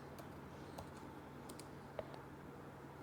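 Sparse keystrokes on a computer keyboard while entering a name into a Python program, a handful of faint, scattered clicks over a steady low electrical hum.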